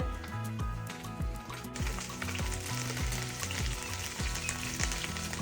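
Curry leaves sizzle and crackle in hot oil in which fried cashews and mustard seeds were popped, a continuous frying hiss close by, with a rhythmic musical beat playing underneath.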